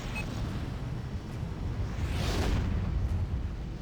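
A space station blows up in The Babylon Project space combat game, a broad rumbling blast that swells toward the middle and holds steady and loud to the end.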